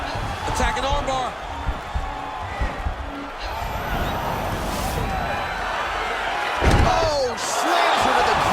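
A fighter is slammed to the ground in the video game UFC 4 during a women's bout, a heavy thud that lands amid steady crowd noise and game effects, with commentary talking over it.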